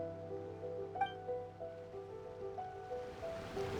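Surf washing around a rider carving waves in the video game Genshin Impact, a soft continuous ocean rush under faint game tones and chimes, low in level with no talking.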